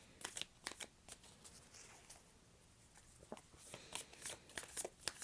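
A deck of tarot cards is shuffled close by in a quiet room: soft, quick riffles and slaps come in short bursts, faint overall, with no voice over them.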